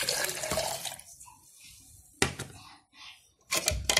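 Warm tap water pours into a drinking glass in two or three short gushes separated by quieter moments, close and fairly loud, with a faint clink of the glass.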